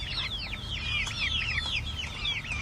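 Heavy-breed farm chickens, a Buff Rock alongside Black and White Jersey Giants, cluck and chatter in a steady overlapping stream of rising calls, close and fairly loud, with no talking.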